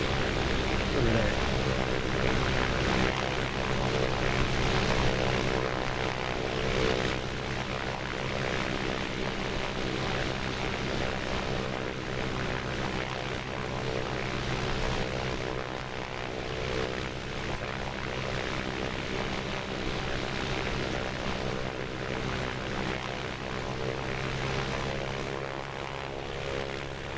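Propeller engine of an A2A Piper Comanche PA24 in Microsoft Flight Simulator 2024, a steady droning hum with throttle held near 1200 rpm on the ground, continuous and even for nearly half a minute, no talking.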